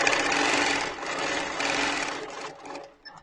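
A sewing machine runs in bursts, a close, loud rapid mechanical whirring that slows and stops after about two and a half seconds, followed by a few small clicks.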